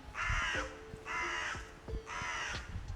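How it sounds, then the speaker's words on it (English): A crow gives three harsh, evenly spaced caws, close and clear outdoors near a woodland, with faint background rustle and no voices. "a crow."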